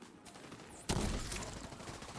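Video game gunfire erupting abruptly after a quieter stretch, a dense, sustained barrage of rapid shots and crackling impacts that stays loud and continuous to the end, with no voices.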